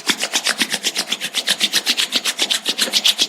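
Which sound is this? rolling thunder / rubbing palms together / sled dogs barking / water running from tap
rubbing palms together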